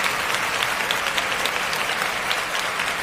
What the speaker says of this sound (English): let's give Mr. Lehman a round of applause.